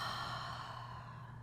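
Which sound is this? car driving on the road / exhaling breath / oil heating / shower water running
exhaling breath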